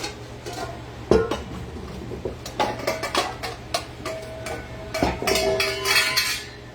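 Small bowls and dishes clink and knock against each other while being handled in a home kitchen during strawberry shortcake preparation, with a series of sharp ceramic and metal taps spread irregularly across the clip, close and fairly loud.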